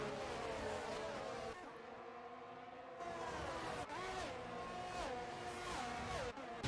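Several racing-car engines roar and rev during a sim racing game race at the Spain round, a dense steady drone with pitch sweeping up and down as cars shift gears and pass. No one speaks.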